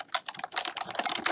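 Quick bursts of keystrokes on a computer keyboard as a password is typed, a close, steady run of clicks and taps with brief pauses, no voices.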